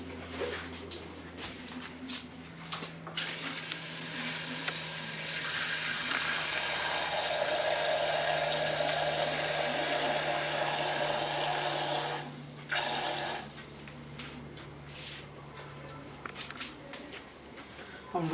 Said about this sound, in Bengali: তো চলুন জলটা ভরে নিই।